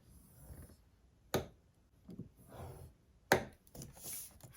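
Paper being scored for a folio with a bone folder or scoring tool: two sharp, distinct scraping strokes about two seconds apart, with soft rustling and handling of the card between them, close and fairly quiet.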